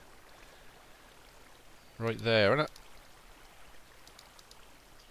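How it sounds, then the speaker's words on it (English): Soft, continuous trickling of flowing water from a source block in a Minecraft-style game, a faint steady wash that runs under a brief spoken remark. "There's a water source. Oh, I can see the source block."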